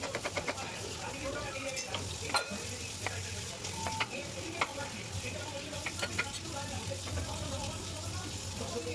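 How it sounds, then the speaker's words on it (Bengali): Butter sizzling in a hot wok (kadai) for chicken soup, a steady frying hiss running throughout with scattered crackles and pops, plus occasional stirring clinks; no speech. "কড়া গরম হলে ওখানে দিয়ে দিতে হবে একটু বাটারের টুকরো"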